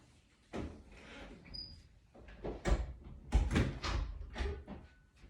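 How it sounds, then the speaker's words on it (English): An indoor door being shut, heard as a series of close knocks, creaks and thuds of varying strength spread over several seconds in an otherwise quiet room. "Let me close this door."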